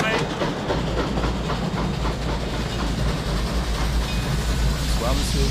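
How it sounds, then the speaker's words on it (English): A train in the video game The Last Express rolls into Épernay station, a continuous loud rumble and hiss with faint rhythmic clatter of the cars, steady throughout. "Le train entre en gare d'Épernay."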